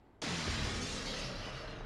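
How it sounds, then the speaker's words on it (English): Glass shattering in Resident Evil 3: Nemesis, a sudden loud crash that spreads into a long, dense spray of falling shards and debris lasting well over a second, with no voices. "you hear some glass breaking and you're thinking, great, more zombies"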